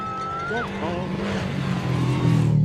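The black and white cookie rally car passes on a gravel stage at the Oregon Trail Rally, its engine note rising and swelling nearby, with voices talking over it.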